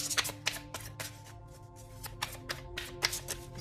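Tarot cards riffled and shuffled quickly by hand, a dense run of crisp flicking snaps and slaps in uneven bursts, close and fairly loud, with no voices.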